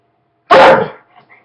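A single loud, close dog bark bursts out after a brief silence and trails off into faint rustling, one of several pet dogs pestering for attention in a home in the morning.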